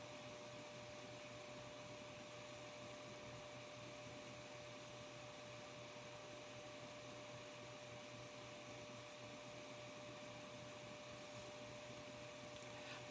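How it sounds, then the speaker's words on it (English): Several small electric fans run at once, giving a loud, steady whirring hum with a faint constant whine that holds unchanged throughout. "I got the fans on, the little tiny ones"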